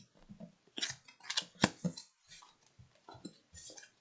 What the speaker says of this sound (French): Alors, on retourne les cartes.